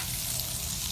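Bacon frying in a pan gives off a steady, fine crackling sizzle, a soft, even hiss of popping fat with no voices.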